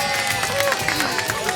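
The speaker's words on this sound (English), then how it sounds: "And surprisingly, the crowd loves it." A crowd at an SPCA telethon event cheering and shouting in a busy, close wash of voices, with a few whoops and scattered claps rising through the din.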